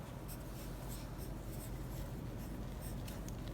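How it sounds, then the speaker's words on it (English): Steady scratching of a pen or marker writing out color names, a continuous dry scraping with small strokes throughout, close and fairly quiet, for a lesson on drawing a color wheel. "I will write for you the name"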